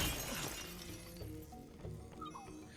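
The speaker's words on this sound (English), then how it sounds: "Break 50 glass windows." Glass windows shattering in the Relooted video game, a dense crash at the start followed by scattered clinks and tinkling fragments over a roomy background.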